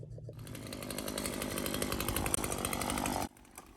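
A chainsaw runs steadily at full throttle while cutting limbs off the back of a big hemlock tree, loud and close, then drops off sharply near the end to a quiet idle.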